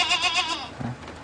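A goat bleats a few times in quick, quavering bursts close by, then the sound fades to quieter rustling.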